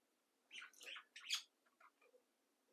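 Pet birds kept as a small group of males and females chirp and squawk in short, bright bursts, close by but faint, with brief quiet gaps between calls and no talking.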